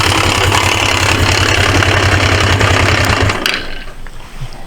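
A 1980s Suzuki GS 450A automatic motorcycle idles steadily up close with a loud, even low throb, then the engine cuts off about three seconds in and leaves a faint quiet tail.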